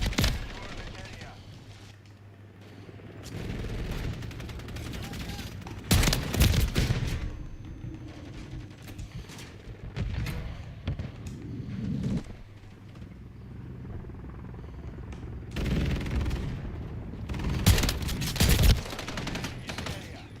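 Gunfire from a gun in Call of Duty: Modern Warfare III, with loud bursts near 6 s and 17–19 s and lighter shots between, mixed with game noise and occasional talk.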